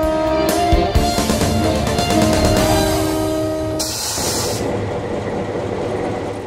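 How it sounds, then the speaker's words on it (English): Simpson Lumber's private railroad train rolls near its Shelton sawmills, a loud, close rumble of freight wagons with rhythmic wheel clatter and brief squeals before a softer, steady rolling noise. "Simpson even has a rail system that services its 2 Shelton area mills, one of the last private railroad operations in the country"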